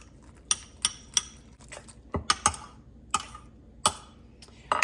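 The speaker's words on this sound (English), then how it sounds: "I'm gonna use a fork first because I forgot to beat my eggs" A fork beating eggs in a bowl, with sharp clicking taps against the dish coming in irregular bursts, close and fairly loud over a quiet kitchen background.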